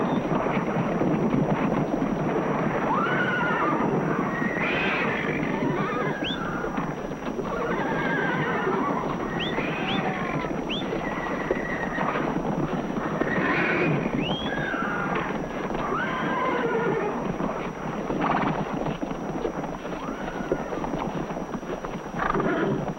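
Wild horses neigh and whinny repeatedly over continuous pounding hooves, a loud, busy galloping herd with no gaps, and several whinnies overlap throughout.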